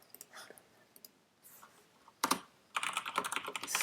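Typing on a computer keyboard while writing C++ code, with scattered faint key taps that break into quick, dense bursts of clicking near the end.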